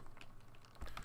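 Light, quiet clicks of fingers typing on a computer keyboard, a few scattered keystrokes with a slightly firmer tap near the end, close and soft.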